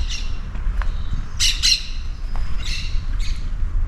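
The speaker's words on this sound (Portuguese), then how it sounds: "Ouçam o canto dos pássaros." Several birds squawk and chirp in short bursts from the trees along a leafy residential street in the Bandeirantes neighbourhood of Pampulha, with steady low traffic rumble underneath and no one talking.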